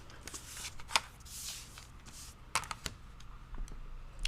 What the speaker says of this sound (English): So now I'm going to cut on just the solid lines around the edge.